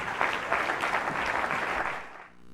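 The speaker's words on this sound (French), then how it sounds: "nous allons acclamer" A church congregation applauds to welcome the pastor, dense steady clapping from many hands filling the room, fading out near the end.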